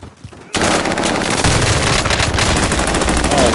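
Sustained loud gunfire in a battle royale video game breaks out suddenly after a brief quiet moment. The continuous rapid bursts sound close and harsh, and voices are faintly present beneath them.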